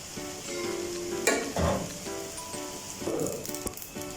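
Noodles being stirred and tossed with vegetables in a hot pan, a steady sizzle broken by scraping stir strokes of a utensil at mid-distance, with no voices over it.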